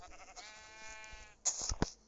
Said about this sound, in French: Pousse-toi, mouton, va.